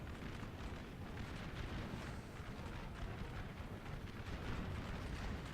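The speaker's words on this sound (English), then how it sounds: "I am unlimbering my artillery right now to kind of get a better shot on the general." Artillery fire in a Napoleon Total War mod battle: a dense, continuous rumble of overlapping cannon booms and distant bursts, faint and steady throughout with no single shot standing out.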